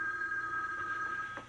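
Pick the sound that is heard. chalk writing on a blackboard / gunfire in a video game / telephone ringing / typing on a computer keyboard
telephone ringing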